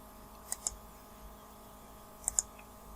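A computer mouse clicks twice in quick pairs, once near the start and again later, each double click faint and crisp against a quiet room hum.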